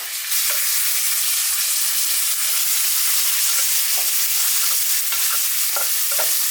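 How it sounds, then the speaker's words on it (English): Butter froths and sizzles loudly in a hot pan with aromatics, a steady close crackle and hiss with occasional stirring clicks throughout. "Let's get her in there. And let that butter froth. And then let's also get our aromatics in there."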